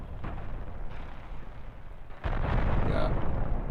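Ship cannons and torpedoes in the space game Cosmoteer go off as a dense, continuous rumble of explosions, with a sharp louder burst about two-thirds through that then holds at a heavier level.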